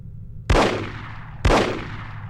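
Two loud, sharp gunshots from a weapon in the first-person shooter The Operative: No One Lives Forever, played on PS2, each a single blast about a second apart with a long decaying tail over a low steady hum.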